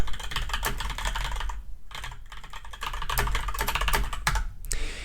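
Steady typing on a computer keyboard while writing a software test, with dense clicking keystrokes throughout, close and fairly loud, and a few brief pauses between bursts.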